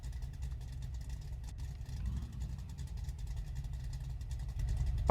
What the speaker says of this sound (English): Let's get the engine turned off for now.